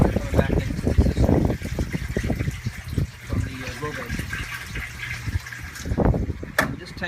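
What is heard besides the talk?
plant water draining back into aquaponics system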